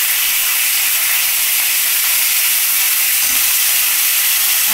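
Bitter gourd and a green chilli dropped into hot oil give a loud, steady, close hiss of frying that holds evenly throughout, with no voices over it.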